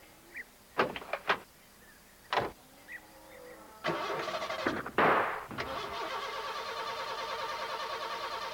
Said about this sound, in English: Oh, dear. She won't start, Ted.